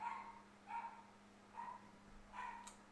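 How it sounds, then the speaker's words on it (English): A dog downstairs barks four times, evenly spaced, distant and muffled, faint against a low steady hum. "My dog's downstairs just barking"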